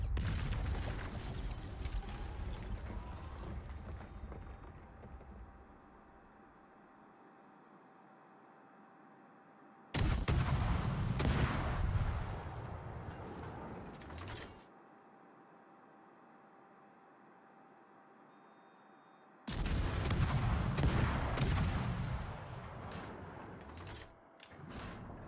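Warship main gun salvos in World of Warships, three heavy booming bursts at regular intervals, each followed by a long rumbling decay under a steady engine and sea hum.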